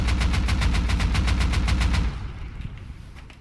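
A sustained burst of AK rifle fire in the video game Rust, fast regular shots for about two seconds, then a quieter tail with faint clicks; no talking.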